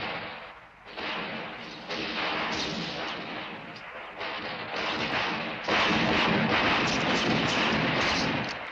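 Gunfire during shooting practice in a 1977 Italian comedy film, a dense, continuous roar of shots and blasts that swells louder in the second half, with no talking.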